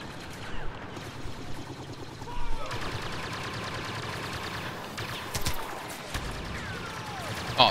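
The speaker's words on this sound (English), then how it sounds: "Why are you shooting at me?" Blaster gunfire in the Star Wars Battlefront video game, a busy run of shots and impacts layered over continuous battle noise, with louder bursts near the middle and end.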